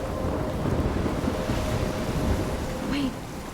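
Storm wind howls steadily through Life is Strange near a lighthouse, a dense, continuous roar with gusting texture and no pause for the whole stretch.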